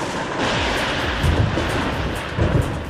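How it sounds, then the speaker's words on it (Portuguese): Heavy thunder rolls and rumbles through a thunderstorm, loud and continuous, with deeper booms swelling near the middle and end over a steady wash of rain-like noise. "uma tempestade com raios e trovões"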